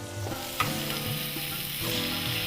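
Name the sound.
stirring meat searing in a frying pan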